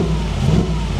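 A Mercedes G-Wagon with side-exit exhaust pipes revs hard at a car dealership, a loud, continuous, close engine roar that holds steady through the short burst.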